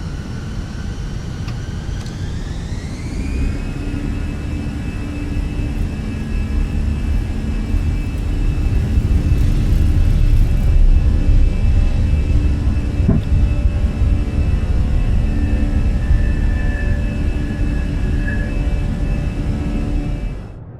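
An Airbus A320 takes off in a home flight simulator: a loud, steady jet engine roar builds as a rising whine spools up, then holds as a sustained rumble for about twenty seconds with no talking.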